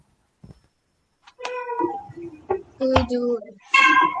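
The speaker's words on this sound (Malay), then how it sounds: "Kucing siapa tu?" A cat meows several times in a row, the calls fairly close and loud, some drawn out with a whiny caterwauling edge, inside a primary-school science classroom.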